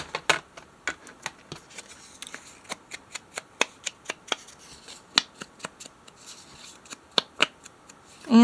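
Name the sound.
scissors cutting white border off paper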